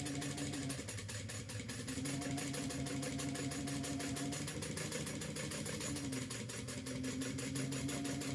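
A sewing machine top stitches fabric with a fast, steady mechanical whir and rapid needle ticking that runs without a break at close range.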